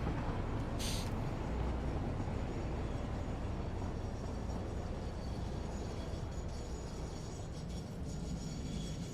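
A two-locomotive train in the game Satisfactory rolls past in a steady, loud rumble that fills the whole stretch, with a brief hiss near the start and no talking.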